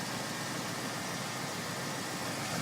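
A car engine idles with a steady, even hiss-like hum, close by and constant, with no belt squeal and no voices.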